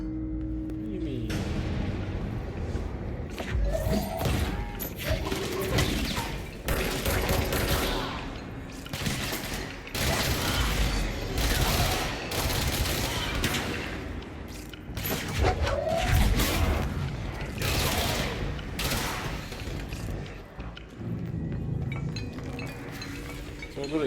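Rapid-fire gunfire in the Control video game, a dense, loud stream of shots and metallic clinks running steadily throughout, with talk mixed in.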